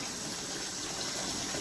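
Water gushes steadily from a tap into a container, filled as rinse water for fresh collard greens, as a brief, continuous hissing rush with no pauses.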